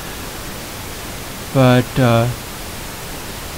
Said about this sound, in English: because the pink noise is not that loud